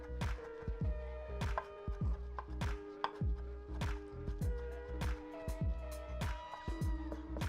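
A knife chops paneer makhani ingredients on a cutting board in steady, quick strokes, each stroke a sharp, close knock under a low background hum, with no talking.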